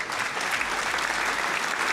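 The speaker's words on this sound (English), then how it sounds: "give you a clap there" A short burst of dense, even applause plays at steady volume during a live tech show stream, with no voices over it.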